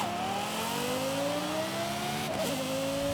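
A retuned SUV with a swapped engine driving in Forza Horizon 5, its engine droning steadily and rising in pitch as it accelerates, with a brief gear-shift dip near the end; loud and close, with no talk.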